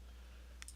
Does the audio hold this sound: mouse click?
yes